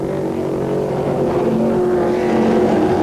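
Race cars in the 1982 Bobcat ASCAR Challenge roar past in a steady, loud engine drone with layered pitches from several cars running together, holding constant throughout.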